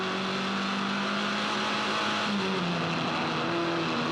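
Formula Ford race cars screaming past on the final lap at Eastern Creek, a steady high-pitched engine howl with shifting pitch as the cars rev through gears, loud and close.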